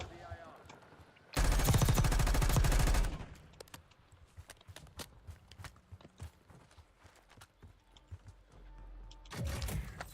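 Gunfire in a video game: a dense burst of rapid shots, then scattered single shots and clicks, then another burst at the end, with no talk over it.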